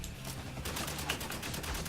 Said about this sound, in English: Sorry, I'm being shot at.